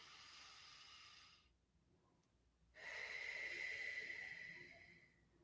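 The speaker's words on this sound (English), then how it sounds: "Breathe in. And slowly breathe out." Slow, deep breaths are taken up close: a long hissing inhale, a short pause, then a longer and louder airy exhale through the nose or mouth, heard alone in a quiet room.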